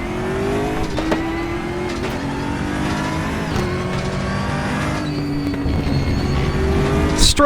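Aquila CR1 race car lapping Portimao in RaceRoom Racing, its engine droning loudly and continuously with rising and falling revs through gear changes and a brief tire squeal near the end.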